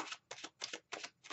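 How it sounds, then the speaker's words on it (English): Tarot cards being shuffled make five quick, crisp riffling bursts in an even rhythm, faint and close, with brief pauses between them. "so the cards are shuffled"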